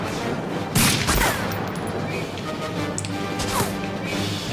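Gunfire in the video game Medal of Honor: a couple of sharp, loud shots ring out early, followed by quieter scattered reports over a steady noisy game soundscape.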